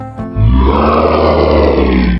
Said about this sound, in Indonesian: Dengan raungan yang keras, Minotaur itu hendak menakuti Bonnie.